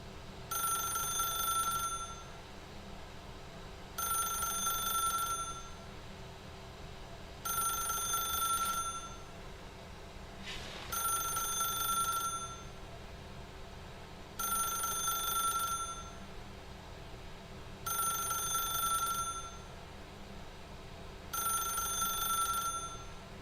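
Repeated bursts of an old-style telephone bell ring out in The Stanley Parable, seven evenly spaced rings over a low hum, loud and close, with no voices.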